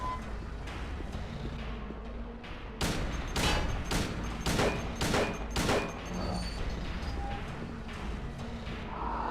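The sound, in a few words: gunshots from the video game Silent Hill 2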